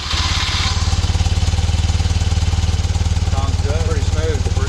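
A 1974 BMW R90S motorcycle engine idles after a cold start, with a loud, steady, lumpy boxer-twin pulse close by and a voice talking over it toward the end.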